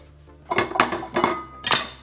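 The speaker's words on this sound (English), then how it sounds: "After the knife is in the seed, you're going to twist, and it's going to come out." Knife blade struck into an avocado seed and twisted out, producing several sharp clicking knocks in quick succession close up, with no talk.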